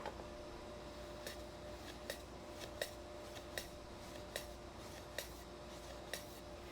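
A saw cuts a chamfer on the end of a board in a woodworking shop, producing a steady hiss with sharp regular ticks roughly every two-thirds of a second, close and fairly quiet.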